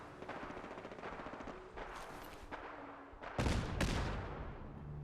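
Fallout 4 gunfire: a fast automatic rattle of evenly spaced shots, then several heavier, louder blasts close by, with brief gaps between bursts and no talking.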